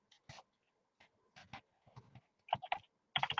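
Someone types on a computer keyboard in irregular bursts of sharp, close clicks, sparse at first and then quicker and louder toward the end, with quiet gaps between.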